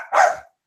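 A single short dog bark close by, one sharp yelp-like burst followed by brief quiet.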